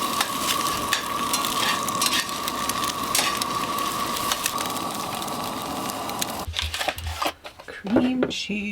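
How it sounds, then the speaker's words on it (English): Bagels toast in a little butter in a pan at a campsite, giving a steady crackling sizzle for several seconds before it drops away and handling noises follow; background chatter and voices are present throughout. "just toasting up these bagels and a little bit of butter in the pan"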